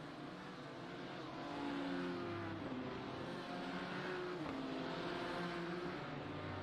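Race car engines drone in a BMW sim racing video game at Daytona, with a steady, fairly faint pack of whining engines whose pitch rises and shifts as cars accelerate and pass.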